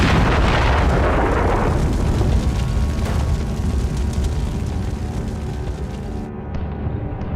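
A tank explodes in a sustained, heavy roaring blast that rumbles and crackles loudly for several seconds, then slowly fades into a lower, rough rumble.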